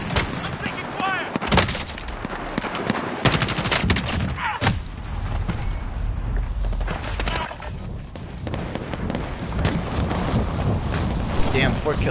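Intense gunfire from Modern Warfare gameplay, dense bursts and booming shots crowding the whole span with a steady wash of battle noise and a voice calling out amid the fighting.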